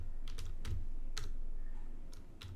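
Keys tapped on a computer keyboard while saving a C source file, a handful of crisp, separate clicks at an uneven pace over a low steady background hum.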